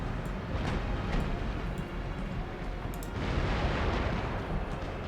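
Ship cannons fire in an Empire: Total War naval battle, a dense rumbling barrage of booms and blasts with scattered sharper cracks, loud and sustained.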